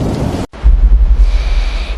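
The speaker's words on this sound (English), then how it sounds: "Careful, the wind is strong up here." Strong wind high up at a lighthouse roars and buffets loudly against the microphone in deep, rumbling gusts after a brief cut, with no voices.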